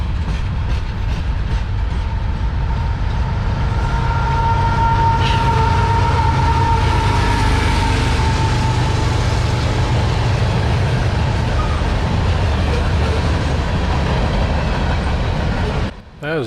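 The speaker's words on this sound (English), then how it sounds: "I'll jump out here for a second so you can hear the locomotives." Southbound manifest freight M573 rolls past with its locomotives, making a loud, sustained rumble with a steady clickety-clack of wagons and a brief whining tone that swells and then fades.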